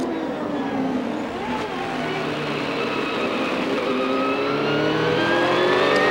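Robbie Gordon's 1995 CART IndyCar at the Long Beach street race, heard onboard from a camera on the cowling behind the pop-off valve: a loud, continuous high-pitched engine scream climbing steadily through the gears.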